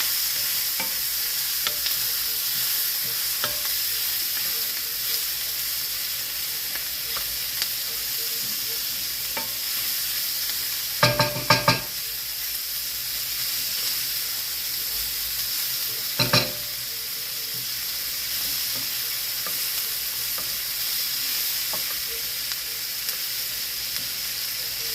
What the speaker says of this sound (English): I'm about to stir my onion and my